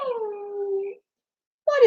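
A pet dog named Elbow lets out a drawn-out, wavering howl that slowly falls in pitch, then breaks off into silence before a second howl starts abruptly, loud and close.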